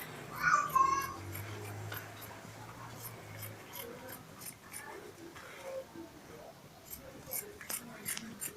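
Scissors snipping through fabric while cutting out a kaftan, a series of faint, crisp clicks spread unevenly through the clip over a quiet background, with a brief voice near the start.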